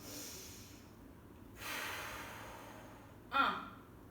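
Breathing during a muscle-strengthening workout, with a soft, drawn-out inhale followed a moment later by a sharper, louder breath, heard close and alone over faint background hiss.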